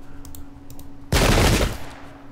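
A musket volley fired by a pike and shot unit in the Pike and Shot Campaigns strategy game, one loud crackling burst of massed gunfire lasting about half a second, heard alone against quiet game background.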